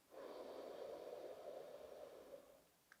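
A single slow, deep breath drawn in through the nose during a relaxation exercise, close and soft, lasting over two seconds before fading, followed by a tiny click.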